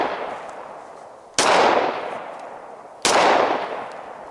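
Two sharp gunshots ring out during handgun shooting training, each a loud close crack followed by a long fading echo, spaced about a second and a half apart with no talk.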